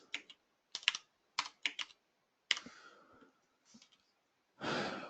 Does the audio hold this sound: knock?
no